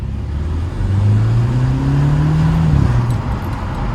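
A Mercedes-AMG 43 car passing close by on the road, a steady loud engine drone with a rising then falling tone as it goes past.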